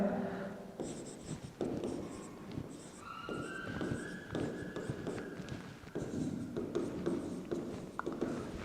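A teacher writing on a board during a chemistry lesson, with quick scratchy chalk or marker strokes in irregular bursts, close and fairly loud, and no talking.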